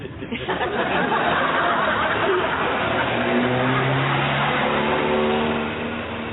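A car passes along a street, its engine swelling and then easing off as it goes by, close and fairly loud with an even steady roar, while people talk and chuckle over it.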